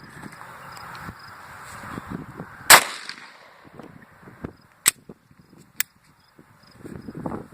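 A bullet fired into a stack of books lands as a single sharp, loud crack, followed by a few smaller clicks and thuds under quiet background shuffling.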